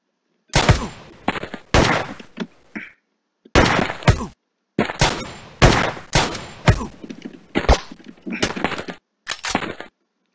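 Rapid gunfire and sharp sniper shots from the 2D shooter game Gun Mayhem 2, loud bursts of cracks and thuds in quick clusters separated by brief gaps, with no talk over them.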